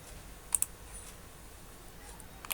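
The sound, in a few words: computer mouse click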